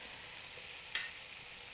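Garlic dropped into a hot pan where rosemary chicken thighs are cooking gives a steady, quiet sizzle, with a brief louder crackle partway through and no talking.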